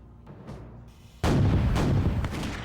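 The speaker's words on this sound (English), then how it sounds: "They bombard the outer wall of this castle with heavy cannon to try and make a breach in the wall." Heavy cannon bombard the outer wall of a castle, first as faint distant rumbles, then a sudden loud, dense barrage of booming fire that keeps on without a break.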